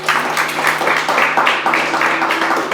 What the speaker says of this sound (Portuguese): Aplausa o nome do Senhor.